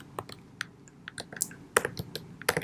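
Code being typed on a computer keyboard, an irregular run of sharp close key clicks with a few louder clustered taps, steady and alone without any talking.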